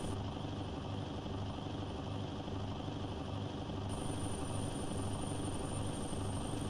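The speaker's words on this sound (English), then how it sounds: "Ooh, big jet plane." Steady low engine rumble of a big jet plane passing overhead in an American Truck Simulator heavy-haul drive through Wyoming, a continuous, fairly faint drone with no clear approach or fade, heard alone without talk.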